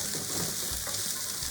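Green cabbage and garlic fry in avocado oil in a pan, giving a steady, close, loud sizzle with faint crackles and no talk.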